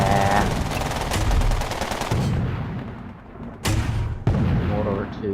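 Mortar fire in the video game Toy Soldiers, heavy booms and thudding gunfire layered over a dense battle din, with a voice speaking over it.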